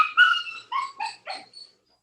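A puppy gives a run of short, high yips and barks, about five bursts tapering off, close and fairly loud with no talking over them.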